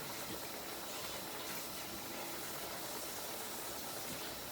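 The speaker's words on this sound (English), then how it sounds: "And then I'm going to put the eggs in the pan." Eggs frying in a hot pan for a crispy onion omelette, a constant broad sizzle and hiss held steady throughout, close and alone without speech.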